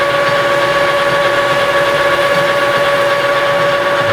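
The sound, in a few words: metal lathe making a facing cut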